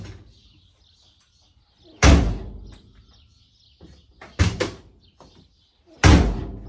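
Three solid thuds of a VW Beetle door being pushed shut in a workshop, close and loud, with one slam doubled by a quick second knock and birds chirping faintly in the background.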